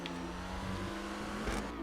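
A Dewbauchee Rapid GT X sports car drives in GTA Online, its engine a steady, continuous drone that holds close and even throughout, with a slight swell near the end and no voices.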